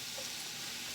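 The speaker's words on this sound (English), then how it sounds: "The other thing about tilapia, and I've cut it into little pieces, is it's going to cook really quickly too" Small pieces of tilapia fry in a pan, a dense, even sizzle with a bright hiss that holds steady throughout at moderate loudness.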